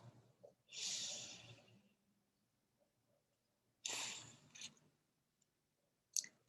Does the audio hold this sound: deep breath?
yes